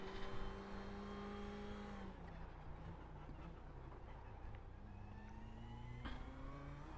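A Ferrari 488 GT3 race car engine in the iRacing simulator at Summit Point drones at high revs. A gear change drops the pitch, then it climbs steadily again as the car accelerates out of a corner, loud and continuous.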